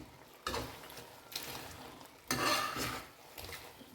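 Shrimp are stirred in a pan after salt goes in, giving a soft scraping swish in a few separate strokes over a faint sizzle.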